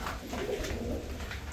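Pigeons cooing on a farm, soft low repeated coos blending together at a moderate distance, faint and continuous with no talking.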